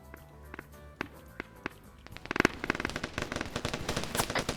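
Gunfire in a military video game: a few isolated sharp cracks at first, then dense, rapid bursts of shots rattling close and loud.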